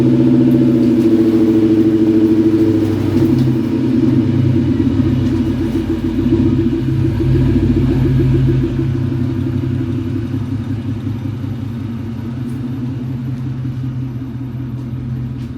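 A car fitted with QA1 coilover suspension drives on the road, its engine a steady, loud rumble with low clatter throughout, easing slightly in level toward the end.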